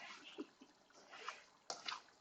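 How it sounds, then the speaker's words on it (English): A pot of chili bubbling on a stovetop, soft irregular blips and pops rising up close and fairly faint. "So right now we have the chili on the stove, and it's just bubbling away."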